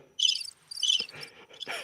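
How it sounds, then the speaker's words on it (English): Crickets chirp in dense, high-pitched bursts, two strong trills followed by softer scattered chirping and faint rustles, with no voices. "Oh, those crickets."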